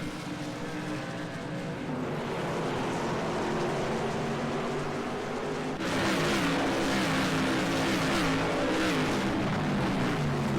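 Whelen Modified race cars lapping Thompson Speedway during the Tom Baldwin Memorial Race, a continuous loud engine roar that swells noticeably halfway through as cars pass, with no voices.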